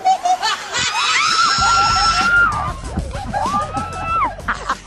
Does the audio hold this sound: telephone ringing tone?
no